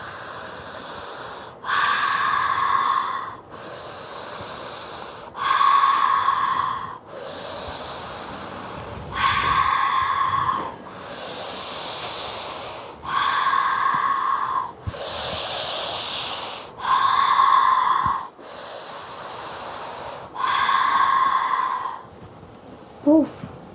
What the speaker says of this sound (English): So keep breathing in and move.